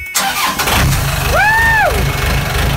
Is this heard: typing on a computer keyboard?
no